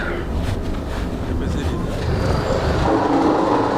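Inside a moving sleeper train, a continuous low rumble and rattling wheel noise persist steadily, with faint voices mixed into the background.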